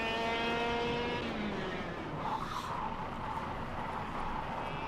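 Small go-kart engine whining steadily in the KartKraft racing game, its pitch sliding down then settling into a continuous buzzing drone, close and fairly loud, with no talk.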